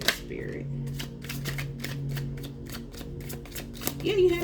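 Tarot cards are shuffled and drawn, giving a quick run of soft riffling flicks at a steady rhythm. A hum runs underneath, and a voice briefly sounds near the end.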